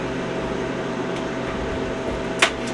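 A Harvest Right home freeze dryer runs with a steady, continuous mechanical hum and airy whir, close and unchanging, with a brief sharp click near the end and no talk.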